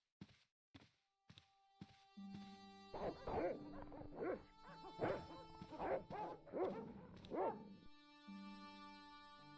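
Dogs bark repeatedly in the Broken Sword video game, a run of sharp close barks and yips following a few isolated thuds.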